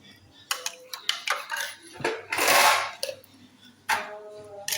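Ice added to cold coffee: a series of close, sharp clinks and rattles against a glass, with one longer clattering burst in the middle and a final clink.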